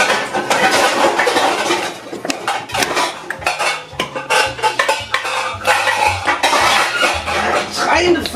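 Pots, pans and lids clatter and clank at close range in a kitchen during a hunt for a lid, a loud, busy run of metallic knocks and scrapes, with a voice briefly heard underneath.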